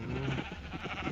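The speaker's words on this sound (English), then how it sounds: "I think over here I have sheep." Sheep bleat in the Minecraft video game, a few wavering calls layered over steady background game ambience, fairly close and moderately loud.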